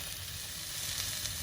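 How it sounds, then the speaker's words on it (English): Bacon sizzles steadily in a pan over a campfire, a continuous close hiss with no voices. "got the bacon all warmed up"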